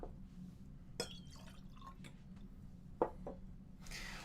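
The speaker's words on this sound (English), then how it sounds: "We're cleaning out these glasses." Drinking glasses rinsed with water indoors, with quiet drips, small splashes and a couple of sharper glassy clinks over a low background hum, no talking.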